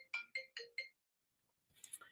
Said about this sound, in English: my phone I was turning my phone off. It started ringing loud.